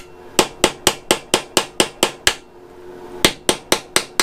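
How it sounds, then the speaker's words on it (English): Sharp metallic hammer strikes on a flathead screwdriver, chiselling at an engine cover on a Honda CB500 motorcycle: a steady run of about ten evenly spaced taps, a short pause, then five more, close and loud. "My next idea involves a hammer and a flathead screwdriver. I'm gonna try to make a little indentation and then just try to crank it out."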